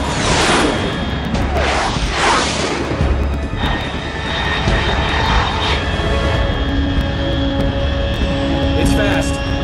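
Fast jet aircraft roaring overhead at high altitude in the stealth action video game Metal Gear Solid 3, a loud continuous broadband rush with sweeping tones, heard with radio-style speech over it.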